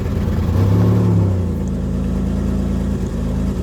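A 2004 Chevy Impala's engine running loud and close with the gas pedal held down, a steady mid-pitched hum that surges early and then settles into an even idle-like drone.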